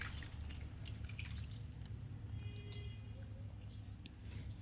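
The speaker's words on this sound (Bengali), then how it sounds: "আমি ছানাটাকে জল ঝরিয়ে নিচ্ছি একটা ছাঁকনির সাহায্যে" Water drips and trickles from freshly made chhena held in a strainer, a soft steady patter over a low background hum with a few faint clinks.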